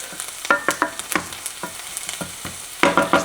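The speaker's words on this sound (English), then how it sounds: "I'm just gonna saute this onion" Onion sautés in a hot pan, a bright sizzle broken by repeated scraping stirs in an uneven rhythm, close and fairly loud, with no talking.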